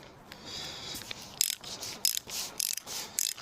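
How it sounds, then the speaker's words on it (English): A woodworking brace and bit's ratchet clicks mechanically in several short, sharp bursts, a near, dry clatter of pawl on gear with brief pauses between turns, heard alone. "There's quite a lot of these that have a ratchet"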